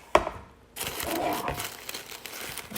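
Paper packaging for a Louis Vuitton Petit Sac Plat bag crinkles and crumples up close during unboxing. A sharp tap comes first, then a steady stretch of rustling and crackling.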